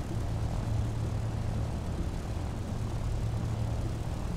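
Steady droning hum of the Avro Anson's propeller engines in an A2A flight simulator, continuous and even throughout at low volume.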